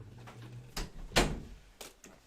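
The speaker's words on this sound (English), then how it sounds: "Close the door, keep the animals out." An indoor door swings shut to keep household animals out, ending in one solid close thump followed by a couple of lighter knocks.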